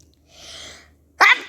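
One sharp, loud human sneeze bursts out near the end after a soft breathy intake, close to the microphone with no talking.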